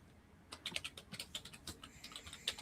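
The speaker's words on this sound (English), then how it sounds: "Keyboard, Chris. Did you turn on your keyboard?" Quick, light clicking of a computer keyboard, irregular keystrokes tapping along at moderate volume in an otherwise quiet room.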